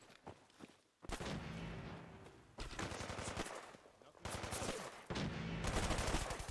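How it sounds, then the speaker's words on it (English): Bursts of ballistic gunfire in Fallout 4 come in loud, dense volleys separated by brief lulls, growing heavier toward the end, with rapid automatic fire and a sustained, battle-like din. "Who's firing ballistic weapons?"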